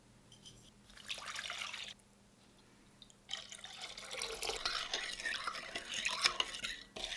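Olive brine being stirred in a quart mason jar, swishing liquid and light clinks of a utensil in glass, close and moderately loud, in bursts separated by short quiet pauses, with no voices.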